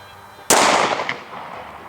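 A single sharp 9mm gunshot firing a 115-grain full metal jacket round at a steel-toe boot, a loud close crack with a brief ringing decay and no talk.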